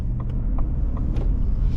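A 2022 Ford F150 Lariat pickup with a V8 and 10-speed automatic pulling away on the road, a low steady engine rumble with faint clicks and taps from inside the cab, heard alone at moderate level.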